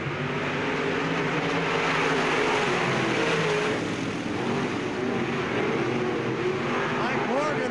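Race cars at Bureau County Speedway in 1998, a continuous roar of several engines from the field under way, with a voice speaking over it throughout.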